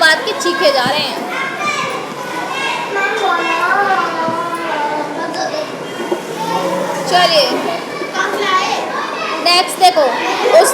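Children shout and scream in a lively, noisy crowd, their overlapping voices loud and continuous throughout, with one short spoken word cutting through the din.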